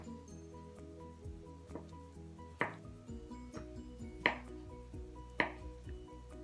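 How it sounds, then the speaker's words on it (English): Knife cutting soft camembert cheese into chunks on a board, a few soft cuts followed by three sharper taps of the blade at spaced intervals, close and quiet. "I'm gonna cut my camembert cheese"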